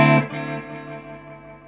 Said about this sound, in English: I love the wobble at the end, listen.